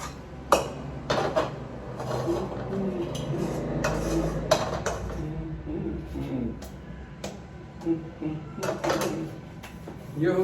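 Metal spoons and cutlery clink and clatter in a home kitchen while a Charsi karahi is being cooked, with scattered sharp knocks and rattles over a steady background hum and some nearby talk.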